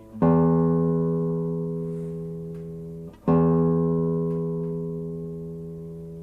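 Low E string of a classical guitar plucked twice, each note ringing out clear and sustained, then slowly fading before the second pluck.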